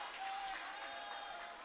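Basketball crowd at a men's college game roaring and applauding continuously for a travel call, a dense, steady wash of cheering voices with scattered clapping throughout.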